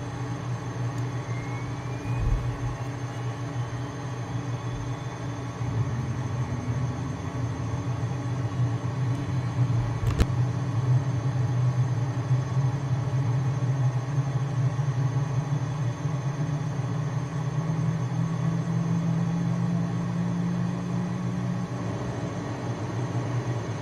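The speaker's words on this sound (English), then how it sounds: "Takes a long time for the engine to start compared to the Hondajet, doesn't it?" Cessna Citation Mustang jet engine spooling up in a flight simulator, a steady low drone with a slowly rising whine that climbs through the clip, continuous and fairly loud with no talking.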